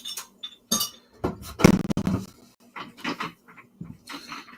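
A glass and a bottle clink together in a quick scatter of sharp, bright taps and knocks, some close and fairly loud, with short gaps between them and no talking.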